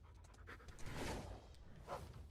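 A dog companion pants in rapid, breathy huffs in the video game The First Descendant, a faint, close rhythmic panting with no talk over it.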